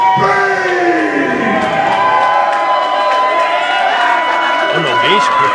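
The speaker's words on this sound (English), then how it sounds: "An ovation here for Max Bane." A wrestling event crowd gives Max Bane a roaring ovation, with sustained cheering, whoops and shouts filling the room, while an announcer's voice talks over the noise.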